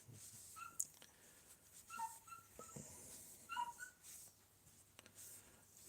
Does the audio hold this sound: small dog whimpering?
yes